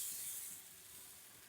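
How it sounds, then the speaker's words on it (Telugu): Moong dal pesarattu batter sizzling on a hot pan, a steady close hiss that eases slightly after the first half second and then holds even. "ఇంకా సాయంత్రం టిఫిన్కి వచ్చేసరికి పెసరట్లు వేస్తున్నాను"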